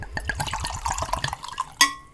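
Woodsman blended Scotch whisky glugging into a glass in a quick, gurgling pour, ending with a sharp clink of glass.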